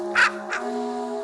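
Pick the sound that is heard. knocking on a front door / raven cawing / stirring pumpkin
raven cawing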